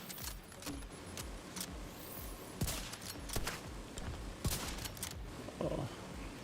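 Shotgun blasts in The Division 2, a few sharp loud bangs spread out among scattered gunfire and clattering game effects, with no talking.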